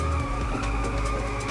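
Car drifting with tyres skidding in the racing game Inertial Drift: a steady, loud engine drone with a continuous tyre squeal layered on top, sustained without pause and with no voices.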